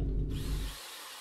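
A power drill used in home renovation work whirs loudly and close for under a second with a rough grinding edge, then spins down into a thin fading whine.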